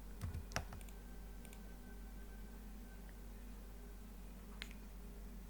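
Computer keyboard in AutoCAD 3D, a few sharp key clicks at the start, a lone tap midway and another near the end, over a low steady hum, faint and close.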